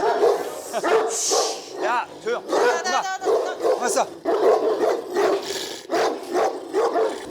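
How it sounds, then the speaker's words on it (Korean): Several Ovcharka dogs bark repeatedly at visitors, loud and close, with whimpers and yips mixed in while a person talks over them to hush the pack. "얘네도 올 때마다 짖네."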